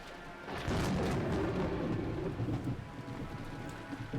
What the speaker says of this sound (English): The thunder crashed once more.